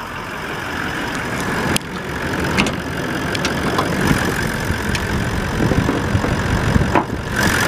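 A Toyota Land Cruiser 76 V8 idles under an open bonnet, a steady, fairly quiet low rumble with faint ticks and a few sharp clicks over the top.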